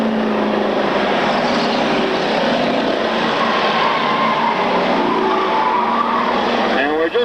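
Race cars roar around a track during a feature race, their engines blending into a dense, continuous loud rumble that runs without a break from start to finish.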